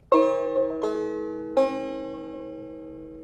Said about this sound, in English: Come up to the 9th fret on your banjo.